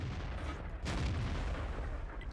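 Tank cannon firing in World of Tanks, a single loud broadband boom near the middle that rolls into continuous rumbling battle noise lasting to the end.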